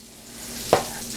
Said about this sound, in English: And the butter's melting, right?